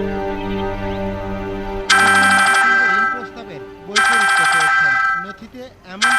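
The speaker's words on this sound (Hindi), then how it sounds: "ईश्वरी जी का फोन।" A telephone rings in two loud bursts, separated by a pause, while people talk in the background.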